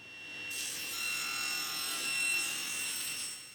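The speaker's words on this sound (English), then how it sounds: "I'll trim the spokes first using this simple jig that I just hot glued together" Wooden spokes being trimmed in a simple hot-glued jig for a large wooden gear: a steady, fairly close sawing or rubbing rasp that starts abruptly and continues without break.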